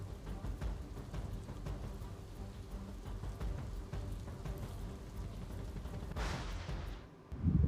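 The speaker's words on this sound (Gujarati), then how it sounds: "તાપી જિલ્લામાં આજે સવારથી મુસળધાર વરસાદ વરસી રહ્યો છે।" Torrential rain pours down in Tapi district, Gujarat, as a steady, dense hiss that continues unbroken before ending in a sudden low rumbling thump.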